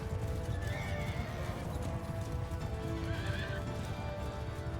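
Horse whinnies and clip-clopping hooves in Mount & Blade II: Bannerlord, a loud, continuous neigh over steady hoofbeats with dense game ambience and no talking.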